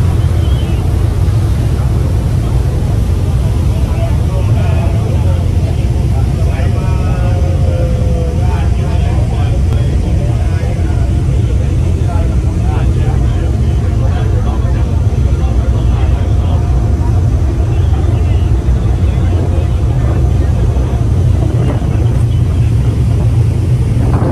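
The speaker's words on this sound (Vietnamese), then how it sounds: "Gió ở đây thì thổi rất là mạnh các bạn ạ" Strong wind roars steadily across the open deck of a passenger ferry bound for Phú Quý island, a constant low buffeting rush that fills the whole stretch with no pauses.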